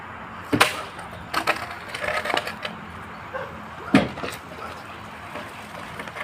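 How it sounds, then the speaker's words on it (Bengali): Several hard stick blows strike a python's head, sharp woody thwacks in an irregular burst with a louder hit near the end, close and fairly loud over outdoor background noise. "মাথায় বাড়ি মারো, মাথায় মাথায়।"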